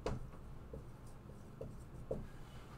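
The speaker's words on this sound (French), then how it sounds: "Alors, je vais écrire sa question." A hand writes out a question on a surface, giving soft scratchy strokes in a few short bursts that stay close and quiet, with no voice over them.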